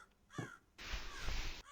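A crow in the horror game Rise of Insanity gives a short, harsh caw and then a longer, raspy call over quiet, eerie ambience.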